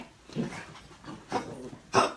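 A dog in a front yard reacts to other dogs passing by, giving three separate short vocal bursts, close and moderately loud, with breathy sounds between them.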